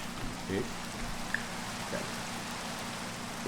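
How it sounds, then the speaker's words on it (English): Steady rain falls in a Minecraft world, a soft constant hiss of drops throughout, with a brief spoken word early on and a few faint clicks over it. "But it's raining right now"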